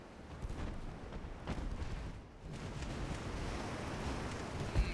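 Naval battle in Ultimate Admiral Dreadnoughts, with 5.9-inch shells striking a ship amid a continuous rumbling barrage of gunfire and impacts, loud and dense throughout with a sharper hit near the end.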